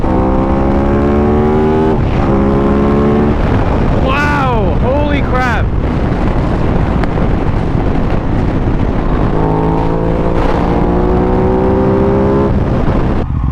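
An Aprilia RS 660 motorcycle under way, engine droning and rising in pitch through gear changes, buried in heavy roaring wind buffeting the microphone, with a brief whine of passing traffic.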